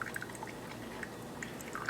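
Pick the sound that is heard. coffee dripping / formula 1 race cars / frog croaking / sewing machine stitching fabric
coffee dripping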